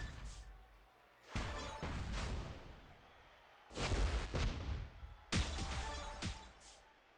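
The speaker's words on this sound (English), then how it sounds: "that was the Juggernaut gems going off, destroying the blast gems" Juggernaut gems exploding and destroying blast gems in a Randy Orton Icons of WrestleMania match-three video game: three loud, crashing blasts, each sustained about a second or more, separated by quieter gaps.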